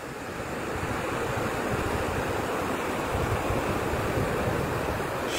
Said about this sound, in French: Chaque vague que vous voyez, regardez les vagues.